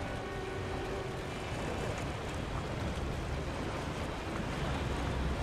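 Rushing water from a water ride in the park-building game Planet Coaster, a continuous broad wash of splashing and flowing water that stays steady and fairly loud throughout, with no voices.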